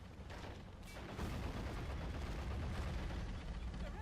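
Tank gunfire in the World War II strategy video game Men of War: Assault Squad 2: a dense, continuous rumble of firing and booming battle noise that swells slightly after the first second and then holds steady, fairly quiet overall.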